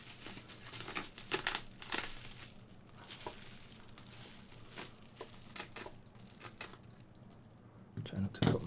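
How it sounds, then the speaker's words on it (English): Packing tape peeled and pulled from a package imported from Japan, crackling and crinkling in irregular bursts close by, with a louder rustling flurry near the end over a steady low hum. "so carefully get the tape to come away"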